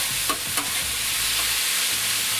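Fried rice seasoned with soy sauce is stirred on a hot flat top griddle, with a loud continuous sizzle and a couple of quick scraping strokes from the spatula early on.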